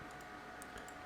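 Quick clicks of typing on a computer keyboard, a few sharp taps spaced unevenly over a steady low hum, close and fairly quiet, no voices.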